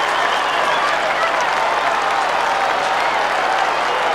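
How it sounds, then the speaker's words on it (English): A packed Western Bulldogs crowd at the Western Oval roars and applauds from the E.J. Whitten stand after a 1997 Footscray v West Coast football win, a dense, continuous wash of clapping and cheering. "The E.J. Whitten stand is rocking."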